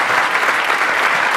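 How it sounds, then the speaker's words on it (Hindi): Loud, dense applause from a group fills the whole moment, steady clapping with no pauses. "इस बात पे ताली बनती है"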